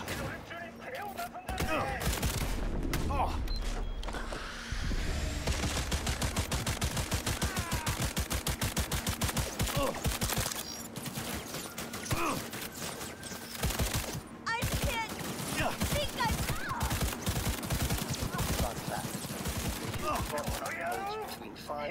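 Sustained automatic gunfire in the video game Cyberpunk 2077 rattles on almost continuously for over twenty seconds in rapid bursts with brief pauses, loud and dense, with a voice speaking over the shooting.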